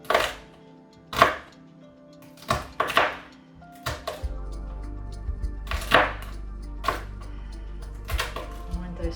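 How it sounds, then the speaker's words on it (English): Knife chopping vegetables on a slant for a summer soup, a series of sharp separate board knocks at an irregular pace, close and clear, with a low steady hum coming in partway through. "And then I'd like to cut them on a jaunty slant for some unknown reason."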